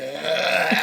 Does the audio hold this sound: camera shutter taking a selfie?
no